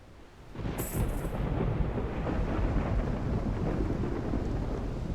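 A stormy sea battle in Mount & Blade II: Bannerlord, with ships caught in the tempest: a dense, continuous roar of thunder, rain and wind swells up after a brief quiet start and holds loud throughout.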